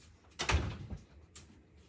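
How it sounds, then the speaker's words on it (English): Cats push open a household door indoors on a cold night: a short knock and creak as it swings, followed by a faint second bump, close by and without talk. "And the cats open the door"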